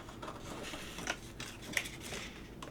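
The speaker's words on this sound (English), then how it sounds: "I'm gonna have to cut this thing all up here to get to this snowflake." Scissors snipping through paper to cut out a snowflake shape, with faint, close, irregular crisp clicks and a few sharper snips over a quiet background.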